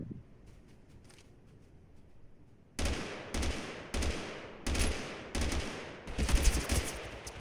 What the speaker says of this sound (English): How am I getting hit for 40 damage at that range? From the assault rifle, nonetheless.